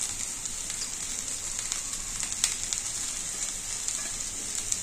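A chickpea snack with coriander is stirred in a pan, giving a steady close sizzle with scraping stirring touches throughout and no talk.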